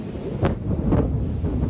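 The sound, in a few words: loud thunder from overnight storms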